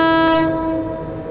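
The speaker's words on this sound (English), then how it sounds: "And that horn sounds absolutely horrible." Horn of an Avanti West Coast Class 390 electric train in Train Simulator Classic on the West Coast Main Line, a loud, harsh sustained tone that cuts off and leaves a fading rumble, no talking.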